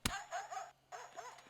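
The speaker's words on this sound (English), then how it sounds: "Dog bark?" A single dog bark sound effect, sharp and close, followed by a brief whimpering, yipping tail.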